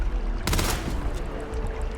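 A burst of gunfire from the space game Starfield, a sharp broadband blast followed by a short rattling tail over a steady low rumble of game ambience.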